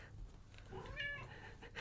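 An 8-year-old cat named Jarvis gives a single short, faint meow in a quiet room.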